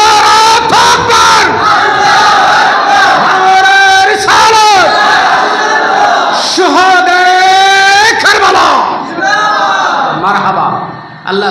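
A large crowd at a Bengali Islamic waz gathering roars a loud chanted Takbir response in repeated surging waves, with voices rising and falling together, close and overwhelming, tapering off near the end.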